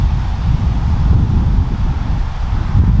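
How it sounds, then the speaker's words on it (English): Steady outdoor wind buffets the microphone for the whole stretch, a loud, continuous low rumble with gusty swells and no voices. "It's kind of tough with the wind, I know."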